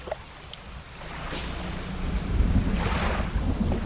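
A thunderstorm in the fishing game Dredge builds as a dense wash of rain with low rumbling thunder swelling louder toward the end, broad and enveloping, with no speech.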